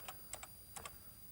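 Five or six crisp, distinct key presses on a 1980s home computer keyboard, tapped in small uneven pairs over a steady background hiss, quiet and close with no voices.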